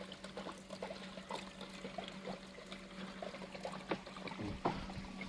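Water drains from a fryer tank's bottom drain purge into waste pipes, a faint steady trickle and pour with scattered small splashes and drips throughout.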